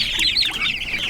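Homestead chickens cluck and squawk close by, a busy run of overlapping calls with no pause.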